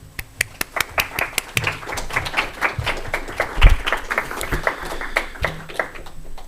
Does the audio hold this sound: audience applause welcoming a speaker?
yes